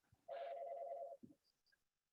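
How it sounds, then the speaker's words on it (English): A phone rings once, a short bright electronic trill about a second long, faint and alone, followed by a few soft clicks. "sorry, my phone's ringing"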